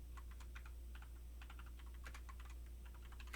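Rapid, irregular clicking of fingers on a computer keyboard, fairly close and steady throughout, with a low constant hum underneath and no voices.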